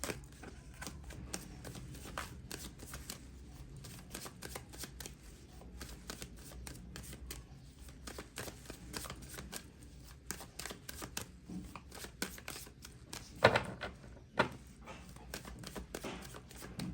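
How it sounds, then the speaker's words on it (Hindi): Tarot cards being shuffled by hand, a steady close-up riffling and slapping of the deck that runs continuously, with a few sharper snaps near the end and no talking. "मैंने कर ली है सफलिंग"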